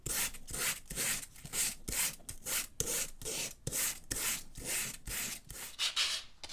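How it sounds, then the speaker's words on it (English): Sanding a gessoed canvas by hand with 4000 grit sandpaper, a soft rhythmic back-and-forth rasping in steady strokes, close and fairly quiet. "Take a 4000 grit sandpaper or 5000 grit"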